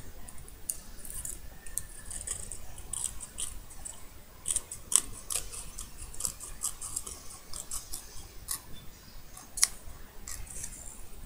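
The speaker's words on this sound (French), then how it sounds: "du petit ciseau de pression pour essayer de couper" Small pressure scissors cut a rounded edge on a wooden tag, producing many quick, crisp snips in an irregular rhythm, close and moderately quiet over a faint background hiss.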